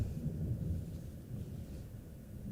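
Low rumbling thunder from a thunderstorm, a steady deep roll that stays at a moderate level and fills the background throughout, without any talk.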